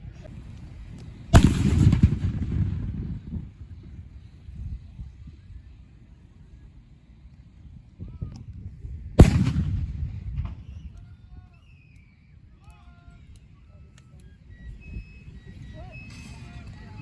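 Cannon fire from the Twin Sisters and El Volcan at a San Jacinto battle reenactment: two loud, deep booms several seconds apart, each rolling into a long rumbling decay over outdoor ambience, with faint crowd voices in the background.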